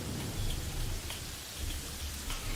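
Steady rainfall from Terraria's rainy weather patters continuously with a soft low rumble beneath, even and moderately loud throughout, with no one talking.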